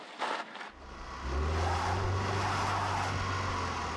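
A vehicle stuck in snow revs its engine in a loud, steady drone after a brief quieter start, the low rumble holding strong to the end.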